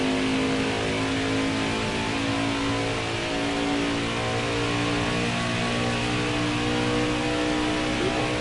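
Truck engine in a racing video game on a track during qualifying, revving in a loud, sustained drone with steady tonal harmonics that shift slightly in pitch over several seconds, heard alone without talk.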